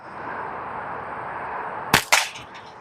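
Two sharp, loud pops from a barnwood-frame slingshot fire in quick succession over low outdoor background hiss, with a faint rattle after.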